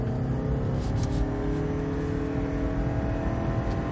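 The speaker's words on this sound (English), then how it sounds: "I'm gonna punch the throttle a little bit" A 2019 Lexus ES 300h hybrid pulls hard at full throttle up a highway on-ramp, its engine a steady droning hum heard from inside the cabin over road and wind noise.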